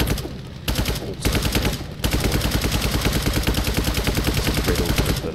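Twin machine gun in the Brick Rigs game rattles off long rapid bursts, loud and close, with two brief pauses early on before firing continues without a break.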